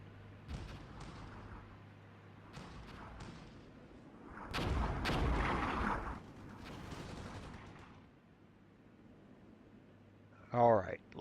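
Gunfire and explosions in the Armored Brigade war game: scattered distant shots and a heavier rumbling burst of artillery midway, fairly quiet overall, with a sharp closer crack near the end.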